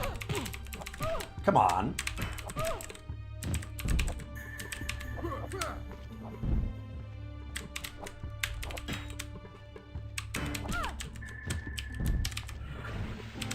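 Keys clatter in irregular bursts on a computer keyboard while an MS-DOS game is played, with a single short spoken remark.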